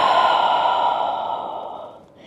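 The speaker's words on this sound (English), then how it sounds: "Taking a collective exhale" A yoga group's collective exhale flows out as one long, loud breathy sigh that slowly fades over about two seconds.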